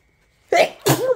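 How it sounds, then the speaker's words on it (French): A person sneezes up close, a quick sharp two-part burst that breaks a near-silent room. "Attendez, éternuement."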